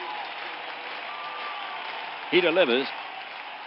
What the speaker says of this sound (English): The crowd is the 10th man here. They are cheering on Cox.